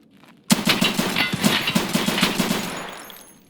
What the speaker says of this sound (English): now I know it's me versus a guy with an automatic weapon